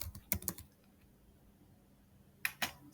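Typing on a computer keyboard comes in two short clusters of crisp key clicks separated by a quiet pause, near and moderately loud.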